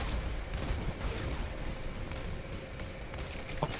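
Rapid gunfire from the space combat game Star Conflict, a dense continuous barrage of shots with scattered louder bursts under a busy noise bed.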